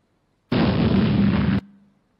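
A loud explosion from a chemical chain reaction fire, a single sustained broadband blast lasting about a second that cuts off sharply and leaves a brief fading low rumble.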